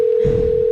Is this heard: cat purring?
no